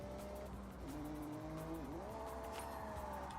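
A car engine whines and shifts pitch while the tires squeal and skid as the car spins out under braking in Forza Horizon 6. The sound is steady and moderately loud, with no talking.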